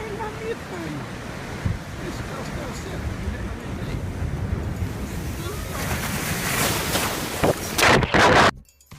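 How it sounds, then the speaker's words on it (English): Rough sea at a San Sebastian beach gives a continuous wash of surf with wind noise, building toward a loud, close crash of a big wave near the end, followed by a sudden cutoff. "moment when a big wave comes"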